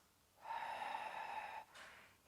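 A single long, steady exhale through the nose during a Pilates pelvic tilt, close and quiet, lasting about a second with a faint breathy tail after it.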